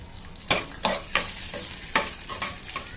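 Cashews and raisins frying in hot ghee for kesari bath, a soft steady sizzle broken by a handful of sharp spoon scrapes and taps against the pan, close up with no talking.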